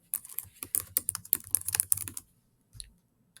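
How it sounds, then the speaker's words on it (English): Quick, uneven keystrokes clatter on a computer keyboard as a question is typed, dense bursts of close clicks for about two seconds, then a pause and a couple of final taps. "type your question here"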